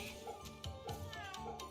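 A cat in the game Fate/Samurai Remnant gives a few short meows, repeated in a loose rhythm at moderate loudness, with game music and ambience underneath.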